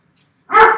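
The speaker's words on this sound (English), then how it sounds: "Oh my god, these dogs." A dog barks once up close, a single loud, sharp bark arriving after a short silence, during a TBL tournament.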